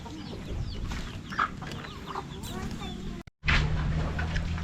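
A brooding hen clucking softly in a farmyard coop, with scattered low clucks and other fowl sounds under continuous nearby conversation, briefly cut by a silent gap before resuming.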